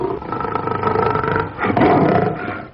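A lion lets out a loud, deep roar close up, two long rumbling swells of sound with a brief dip between, heard alone without any talking.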